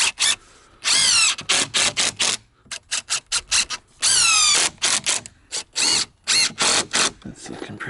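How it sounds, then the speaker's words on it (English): A power drill drives a screw into wood while a cheap garden raised bed is being built. Several loud bursts of whining revs start and stop close by, the last few short and choppy. "Yeah, we'll just put a screw through it."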